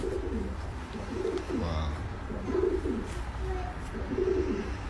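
A pigeon coos close by in a steady repeating rhythm of low throaty calls, while someone says a word of surprise partway through.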